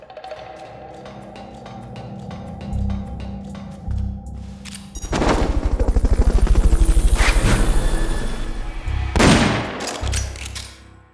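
Helicopter in the video game Metal Gear Solid Peace Walker, a loud steady rotor chop building midway and running for several seconds, preceded by sharp rapid clicks and bursts of game effects, with no talk.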